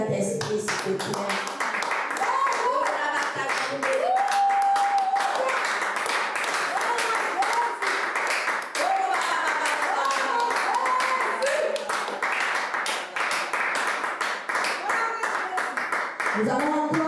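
A church congregation at a Saturday prayer service for the nation applauds and cheers for a long stretch, loud and dense, with voices and music woven through the sustained clapping.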